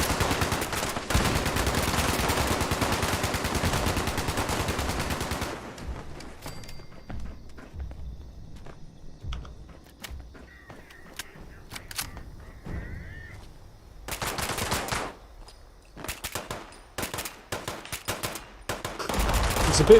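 Gun bursts in Fallout 76, with a dense stretch of rapid firing, a quieter gap with faint ambient sounds, then more scattered loud shots and bursts toward the end.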